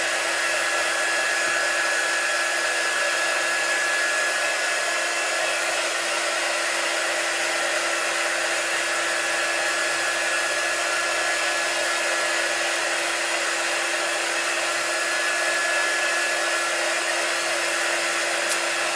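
A hair dryer blows on freshly applied chalk paint, a constant, loud whooshing whine with a steady tone that runs unbroken for the whole stretch, with no voices.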